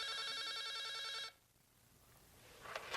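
A telephone bell rings in a rapid electronic trill for just over a second, then cuts off abruptly, leaving quiet room tone and a faint rustle.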